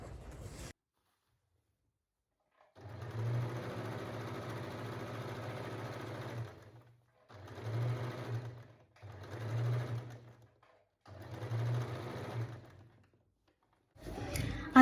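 A sewing machine stitches folded fabric to form an elastic casing, running in one long burst and then three shorter bursts with pauses between, a close steady mechanical whir.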